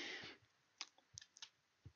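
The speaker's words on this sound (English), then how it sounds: "I confirm my search by clicking Apply Filters" A computer mouse clicks while applying filters in Datahub: four or five faint, sharp, quiet clicks spaced irregularly after a brief burst of noise, with no voices.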